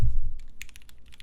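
Keystrokes on a Wilba.Tech Thermal+ keyboard fitted with Gateron Black Ink switches, a quick run of crisp, close clacks after a low thump at the start, varying slightly in force.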